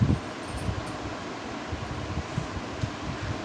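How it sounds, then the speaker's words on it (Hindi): An electric fan runs steadily nearby, giving a constant, even whoosh of moving air with soft low rumbling and no voices. "पंखा चलाया, अभी बहुत ज़्यादा पसीने आ गए थे"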